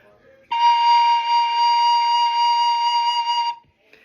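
A single sustained soprano recorder note, A sharp, clear and steady, held for about three seconds after a faint breathy start, then stopping cleanly.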